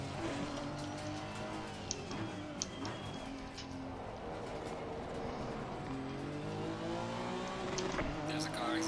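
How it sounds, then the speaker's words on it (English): Race cars in a sim racing game on the Kyalami circuit, Honda 3D Speed Series, with engines whining and shifting pitch as cars pass, occasional tire squeal and a near-continuous commentator voice over the top. "There's a car exiting pit lane."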